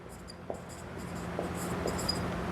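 Chalk or marker writing on a classroom board: faint, scratchy strokes in short bursts with small taps, over a steady low room hum and no talking.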